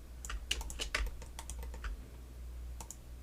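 Computer keyboard keys, including the Tab key, are pressed while working in Maya software: a quick, irregular run of light, close clicks, tapering to a few final taps.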